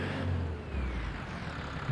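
A tractor engine in Farming Simulator 25 labours through snow while reversing, a low steady rumble with a faint rising whine, moderately loud and continuous with no voices.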